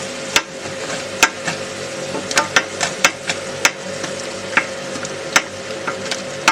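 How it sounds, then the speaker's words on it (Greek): A spoon scrapes and taps sharply across a pan as warm water deglazes browned onion and spice residue for a salmon sauce with grape molasses. The repeated strokes ring out over a steady sizzle. "Πάντα βάζουμε λίγο νερό σκέτο, χλιαρό ή ζεστό και αρχίζουμε και τσίνουμε"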